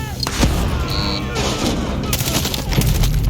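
Far Cry 6 combat with flashbang blasts and bursts of gunfire, a dense, loud barrage of booms and shots running throughout, with a brief high ringing tone after one blast and voices faintly mixed in.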